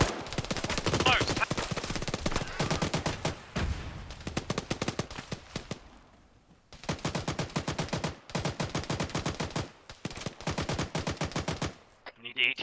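Rapid machine gun bursts in a military video game rattle loudly in long repeated volleys, separated by short pauses, with occasional voice chatter underneath.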